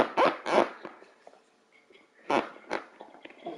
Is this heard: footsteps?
no